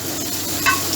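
Sliced green chillies dropped into hot curry masala for gola kabab gravy, a continuous close, loud sizzle and hiss over one second with a slight flare of crackle midway.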